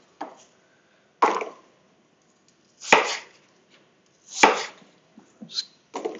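A knife chops apples on a board for an apple crumble in a home kitchen, about five separate loud cuts spaced a second or more apart with quiet between them.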